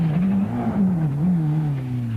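A rally car from the 1992 Donegal International Rally slides around a chicane on the handbrake, its engine droning steadily close by as the pitch rises and dips, with a hint of tyre scrub.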